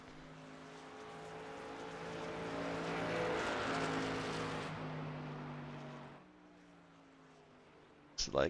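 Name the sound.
race trucks getting out on the track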